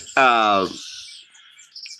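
A single loud, clear bird call with a strong harmonic tone, close by outdoors, lasting about half a second before fading into quiet, with faint sounds afterward.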